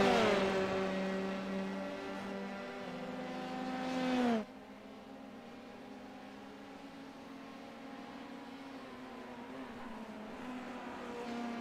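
In iRacing, race cars scream past at full revs with strong, rising engine harmonics. The sound cuts off abruptly and gives way to a lower, steadier drone from other cars for the rest of the run.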